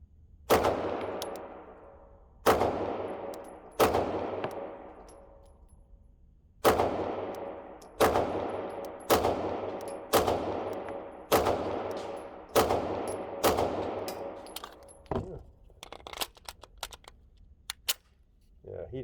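Archon Type B pistol fired at a target outdoors, a series of about a dozen loud, sharp gunshots with ringing decay, spaced unevenly by one to two seconds, some in quicker pairs toward the end.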